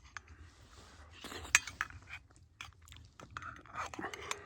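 Spoon clinking against a bowl while someone chews homemade hamburger vegetable soup with ground beef, rice, noodles, carrots, garlic and onions, with sharp close metal taps, soft chewing and quiet talk in between.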